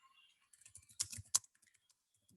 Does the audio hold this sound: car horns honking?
no